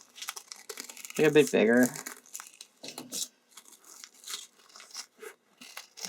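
Scissors snip through paper while cutting out a paper shape: a quick burst of crisp crunching and crinkling cuts up close, followed by scattered lighter snips, with a person talking briefly over it.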